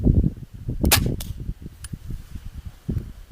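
A 15th-century arbalest pistol crossbow releasing a bolt, a sharp snapping crack followed by a second smaller impact, amid close handling noises and outdoor background.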